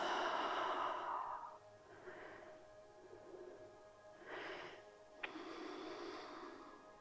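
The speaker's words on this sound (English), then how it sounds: "Deep breath in. Long, slow exhale out." A long, slow, breathy exhale during a yoga side body stretch, soft and close, fading over about a second and a half, followed by a few fainter breaths.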